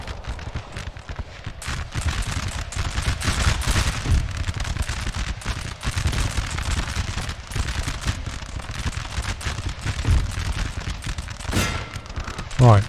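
Rapid bursts of gunfire crackle almost continuously, loud and dense, with a spoken voice over the top of the shooting.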